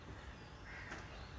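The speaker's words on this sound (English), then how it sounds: "The crows are here." Crows cawing outdoors, faint and distant, a brief harsh call rising out of low ambient noise.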